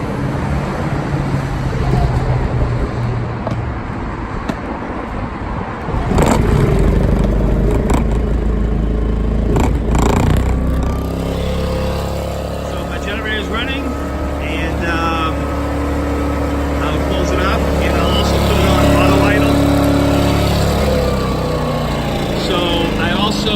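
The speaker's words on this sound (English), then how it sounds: "So my generator will run." A portable generator powering a van's electrical setup cranks and catches, then settles into a steady, loud droning hum that runs on continuously; someone talks over it.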